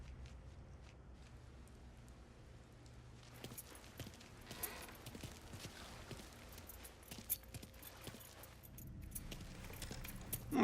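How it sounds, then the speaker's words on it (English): Keys jangle and clink as they are grabbed in the crime game Mafia III, a busy metallic rattle set against a steady low background rumble with scattered louder clinks toward the end. "Hey, man, grab those keys."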